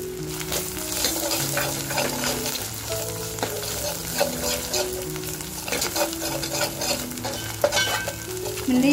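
Homemade ground masala paste sizzles and fries in a pan, crackling steadily while a spoon stirs it now and then, with light metallic scrapes over a continuous hiss.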